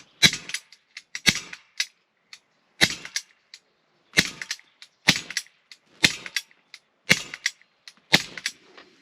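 An Umarex SA10 4.5mm blowback CO2 air pistol fires a series of sharp, close snapping shots, about eight to ten over several seconds, some in quick pairs, each with a short metallic slide clack and brief decay.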